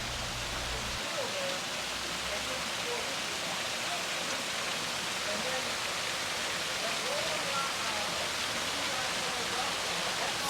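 Artificial Rapidroc rock waterfall running steadily, a dense, constant rushing wash of falling water that stays even throughout with no pauses.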